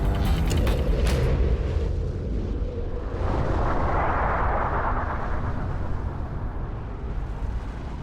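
Comets bombarding early Earth: a loud, continuous deep roar and rumble that starts with a sharp crackling burst and then swells into a broad, heavy wash of thundering impact noise.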